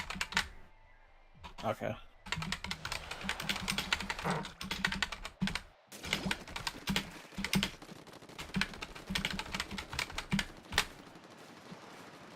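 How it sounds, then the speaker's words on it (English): Rapid clicking of computer keyboard keys in bursts during a lively Splatoon 2 game session, mixed with game sounds and frequent talk between several people. "I want to type this out."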